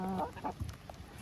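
Chickens clucking while eating potatoes at a Ukrainian village dacha, a few short, close clucks in a brief burst.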